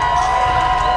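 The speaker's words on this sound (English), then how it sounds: "Great crowd reaction supporting this young man from San Benito" Crowd at a boxing match cheers for a fighter from San Benito, a dense, sustained roar of many voices filling the whole brief moment.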